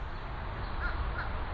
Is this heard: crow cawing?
yes